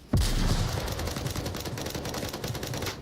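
Dense automatic gunfire from the VR shooter Onward, a sharp onset followed by rapid continuous bursts of shots and bullet cracks filling the clip, loud and close with no talking.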